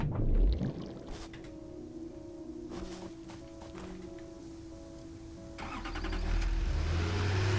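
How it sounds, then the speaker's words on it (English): A tractor in the video game Satisfactory drives along with a steady, droning engine hum, sustained and fairly quiet, swelling slightly louder toward the end. "I can actually take the tractor, so we'll get there a little bit quicker"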